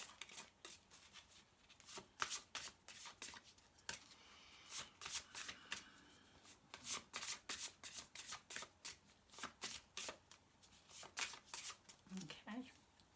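A deck of angel cards being shuffled by hand, in repeated quick riffling bursts of crisp card slaps at close range, with faint talk in between.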